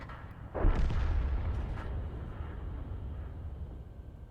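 Artillery shells land in World of Tanks, a heavy, booming impact with a deep rolling tail that fades slowly, heard alone at moderate loudness.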